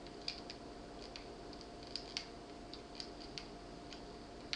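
A computer mouse clicks in MS Paint, sharp light taps spaced irregularly, roughly a dozen over a few seconds, faint and close against a steady low hum.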